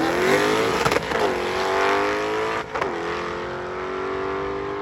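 A stick-shift drag race car at a Midwest drag meet launches on an eighth-mile strip with its tires spinning off the line, the engine roaring loud and close, rising in pitch with brief dips between gear changes.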